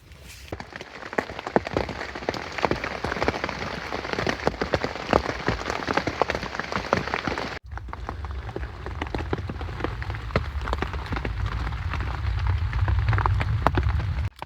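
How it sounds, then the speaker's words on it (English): Steady rain falls on outdoor surfaces after a long, wet night, giving a dense, continuous patter with scattered louder drops. Midway the sound shifts to a deeper, more rumbling wash. "it has literally been raining all morning and all night last night"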